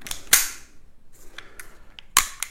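An Umarex Glock 17 Gen5 T4E pistol fires RBI rounds: two sharp, loud cracks about two seconds apart, with faint mechanical clicks between them.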